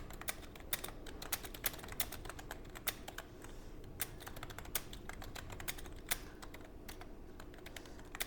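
Rapid, continuous keystrokes clatter on a computer keyboard during typing practice, an even stream of close clicks with no voices over it.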